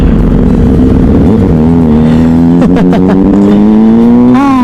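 Stop-and-go traffic jam in Cilegon heard from a big motorcycle on a tour from Lampung to Depok; a loud engine hums and rises gradually in pitch, with short horn-like bursts near the middle and end, all close and continuous.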